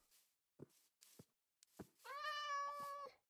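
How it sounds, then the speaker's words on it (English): A Minecraft cat meows once in a long, clear, drawn-out cry after a few soft clicks and thumps of in-game movement, faint overall and alone without speech. "There's a random cat in here"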